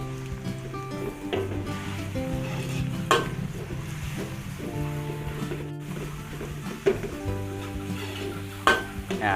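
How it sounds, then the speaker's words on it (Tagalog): Ground pork mince sautés in a hot pan with a steady loud sizzle, broken by the scrape and clatter of a utensil stirring the meat, Filipino-style home cooking. "Gisa po natin yung giniling."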